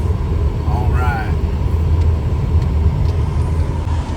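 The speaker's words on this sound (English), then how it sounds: "We are driving to Hattiesburg." A car drives on the road, heard from inside as a steady low rumble of engine and tires throughout, with a faint brief whistle near the start.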